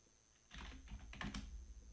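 A computer keyboard clatters under quick typing, a burst of close, crisp key taps starting abruptly after a moment of quiet.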